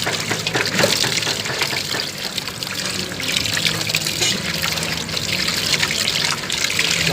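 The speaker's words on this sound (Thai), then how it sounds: "ล้างน้ำให้สะอาดก่อน" Beef tendons are washed under running tap water, which streams and splashes steadily and loudly, with some trickling and gurgling. No speech is heard.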